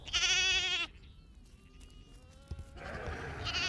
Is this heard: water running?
no